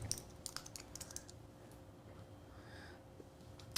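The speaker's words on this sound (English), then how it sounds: "we're just going to be typing in our initials" Soft, scattered keystrokes on a computer keyboard as initials are typed into craft design software, faint and sparse above a steady low room hum.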